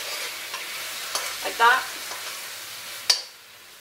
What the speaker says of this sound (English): you'll see it's starting to bubble